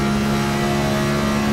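A race car engine screaming at high revs on an onboard lap, loud and close, steady with a strong tonal whine and no talk over it.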